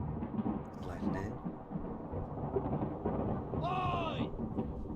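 Deep rolling thunder rumbles through a storm in a ghost ship video game, with heavy low noise throughout and a voice talking over it.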